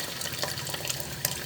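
Deep well water splashes and trickles into a glass in a steady, close pour with small bright drips, moderately loud and without talk.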